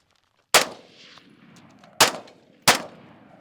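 Three sharp, concussive gunshots from a Steyr AUG rifle fired at close range outdoors, spaced unevenly about 1.5 and 0.7 seconds apart, each with a loud crack and a short decaying tail.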